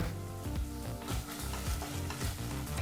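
Ginger garlic paste frying in a hot pan gives a steady close sizzle, broken by repeated scraping stirs, with background music playing throughout.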